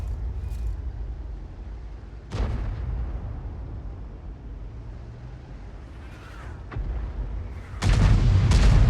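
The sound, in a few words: tank gunfire in a video game (World of Tanks)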